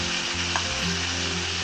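Pinakbet vegetables sizzle and bubble steadily in a hot pot while they are stirred, a constant close frying hiss with a faint scrape from the spoon, no voices.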